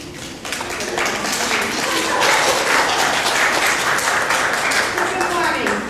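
Audience applause greeting Dean Taylor, a guest speaker at a BBB anti-fraud talk in Kerrville, steady and full for about six seconds, with clapping sustained throughout.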